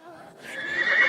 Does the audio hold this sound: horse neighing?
yes